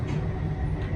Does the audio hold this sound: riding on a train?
yes